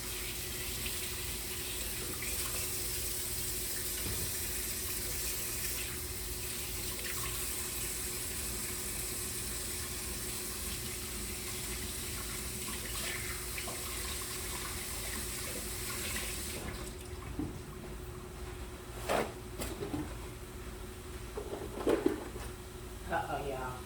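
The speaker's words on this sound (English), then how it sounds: "Let me wash my hands." Tap water runs steadily into a kitchen sink during hand washing, a continuous broadband hiss that stops abruptly partway through, followed by a few clattering clicks and faint handling sounds.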